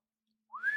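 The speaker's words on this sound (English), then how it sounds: "And whistles for the dragon to come" A single rising whistle called out to summon a dragon, starting faint and sliding upward into a sustained clear tone, heard alone against silence.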